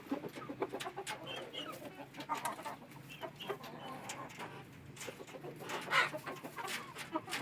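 Chickens and a rooster cluck and call in a farmyard in a busy, irregular chorus of short calls, fairly close and moderately quiet.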